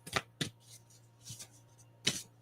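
Tarot cards being shuffled by hand, several quick riffling bursts separated by short pauses, close and fairly quiet over a faint steady hum.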